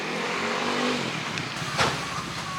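A taxi drives through a Mexican street, a steady engine and road rumble heard from inside the car, with a short sweeping pass of another vehicle near the end.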